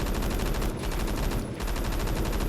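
MG36 machine gun in the Roblox game Phantom Forces fires in dense continuous automatic bursts, loud and close, with two brief pauses between strings of rapid shots.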